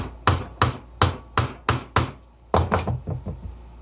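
A sharp woodworking chisel cutting into wood while chopping hand-cut dovetails, with a steady series of about ten crisp, close knocks, spaced evenly at first and then coming quicker and lighter toward the end.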